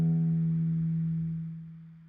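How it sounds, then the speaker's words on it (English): A single open low E string on a guitar rings out close and alone, a steady sustained bass note that slowly decays over about two seconds. "that low E string sounds like this"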